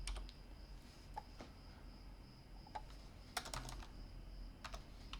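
Soft typing on a computer keyboard with scattered key clicks and short bursts of taps against a quiet hum, no voices.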